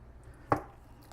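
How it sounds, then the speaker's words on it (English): A single quick knife chop cuts through a block of Spam on a board, one close thud, then quiet. "So first, chop this baby in half."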